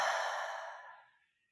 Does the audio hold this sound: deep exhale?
yes